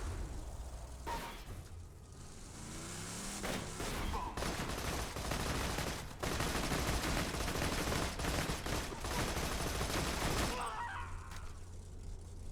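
Shotgun fire in a video game, Borderlands-style, comes as a dense, sustained barrage of loud blasts and cracks lasting several seconds, with brief lulls near the start and the end.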